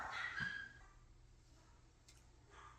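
A dog whimpers and yips briefly at the start, close by, then fades into a quiet room with faint background noise.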